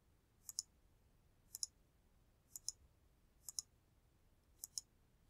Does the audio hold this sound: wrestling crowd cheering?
no